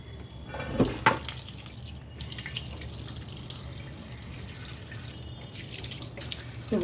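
Kitchen tap water runs into a sink while fish are washed, with splashes and brief louder bursts early on, then a steady close stream at moderate volume.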